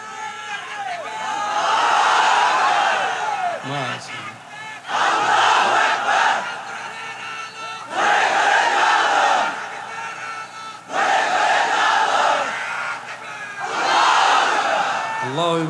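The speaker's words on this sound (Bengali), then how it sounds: "তাকবীর দেন একটা বিবাহিতরা, নারায়ে তাকবীর।" A large crowd of men roars a takbir chant in repeated loud bursts, each swell of massed voices lasting a couple of seconds before dropping back, at an Islamic gathering.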